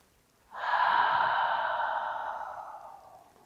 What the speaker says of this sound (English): Inhale deep.